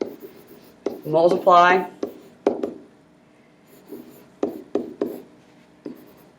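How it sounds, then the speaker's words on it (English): Marker or pen strokes writing a math problem during a lesson on multiplying negative numbers, several short scratchy bursts between and under a man's explanatory speech. "I'm just going to write that at the bottom"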